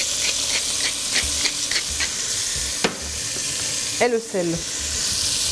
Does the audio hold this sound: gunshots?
no